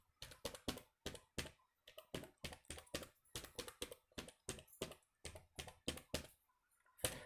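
Rapid, uneven keystrokes on a computer keyboard as a long multi-digit number is entered into an Excel spreadsheet cell, each tap crisp and close, with short pauses between bursts and no talking.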